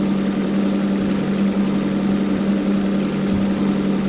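Diesel shunting locomotive engine at full throttle in Derail Valley, a loud steady drone with a constant low hum and broad mechanical roar, unbroken and close, with no voices.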